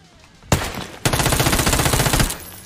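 Pistol fire rings out loud and close: a single sharp shot, then a rapid unbroken burst of repeated shots lasting over a second.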